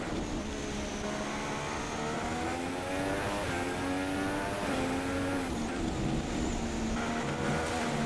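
A Ferrari Formula 1 car in the F1 2016 racing game howls steadily at high revs, its engine note climbing and falling through gear changes, loud and continuous throughout.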